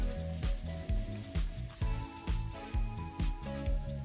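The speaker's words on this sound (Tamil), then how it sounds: "நல்லா வதக்கி விட்டுக்கோங்க." Onions and tomatoes fry in a pan for a chickpea kurma, giving a soft sizzle broken by regular scraping and stirring strokes about twice a second, close and quiet with no talk.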